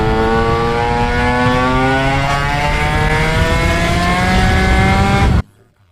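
A tuned Vespa 50 Special scooter engine screams at full throttle, its loud high-pitched buzz climbing steadily through the revs for over five seconds and then cutting off abruptly.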